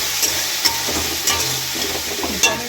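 Vegetables fry in a generous amount of oil seasoned with Kashmiri chilli powder, with tomatoes being added. A loud, continuous sizzle runs throughout, broken by a few light stirring scrapes, with no voices.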